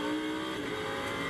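A Lamborghini Super Trofeo race car at Zandvoort shifts gear mid-race, its loud, close engine note a steady harmonic wail with a slight pitch change partway through.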